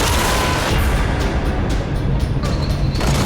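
Alchemist's Immolation in the Nosgoth video game unleashes a self-destructive light wave blast: a loud, dense, sustained roaring burst with crackling bursts layered throughout.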